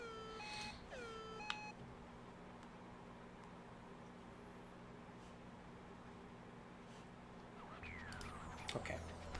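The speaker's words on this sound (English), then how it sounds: "Boop, boop. I'm getting a lot of text messages too." Short electronic beeps and chirps from phone message notifications sound near the start and again near the end, bright and clipped over a quiet game background hum, with stretches of near silence between.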